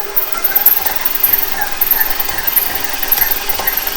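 An electric mixer whirs steadily through butter, a loud continuous motorized hum with a faint rhythmic pulsing and no pauses.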